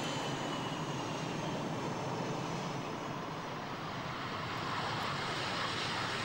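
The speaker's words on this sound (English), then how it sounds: "This is the Swiss Air Force FA-18C Hornet, another American aircraft." A Swiss Air Force FA-18C Hornet jet flying at an air show, a loud, continuous broadband jet roar that holds steady and swells slightly toward the end.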